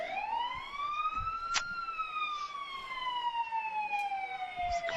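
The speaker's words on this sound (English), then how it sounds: "It's the Kerhonkson Fire Department. A lot of horns." Kerhonkson Fire Department trucks in an Ellenville Fourth of July parade, with a siren wailing slowly up and down, steady and moderately distant, and a short horn blast partway through over outdoor crowd noise.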